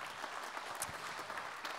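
An audience applauds at an aquaculture and fisheries awards ceremony: dense, steady clapping from a crowd, fairly distant and evenly sustained, with no voices over it.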